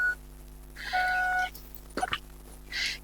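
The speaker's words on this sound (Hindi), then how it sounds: "सॉरी मेरा फोन साइलेंट मोड में नहीं था" A mobile phone left off silent mode sounds a short series of electronic beeps and chimes, sustained tones followed by a couple of brighter blips, over a quiet room hum with no talking.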